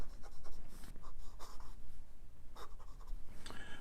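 Parker Centennial Duofold fountain pen nib scratching steadily across paper, a continuous close scratchy writing sound with rhythmic stroke bursts.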